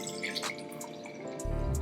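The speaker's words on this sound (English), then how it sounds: "So I'm just gonna pour it in my wine glass." Skinny Girl California White Crisp wine trickles into a wine glass in a few soft drips and splashes, close and quiet, with a low rumble rising near the end.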